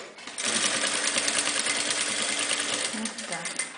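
A sewing machine runs steadily while attaching a Turkmen embroidered collar to a dress, giving a continuous rapid whirring hum for several seconds before slowing briefly and picking up again, with a voice speaking faintly.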